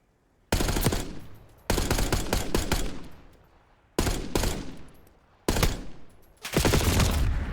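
Automatic gunfire in the shooter game Black Ops 6 rattles out in four loud, sustained bursts separated by short silent gaps, with no voices over it.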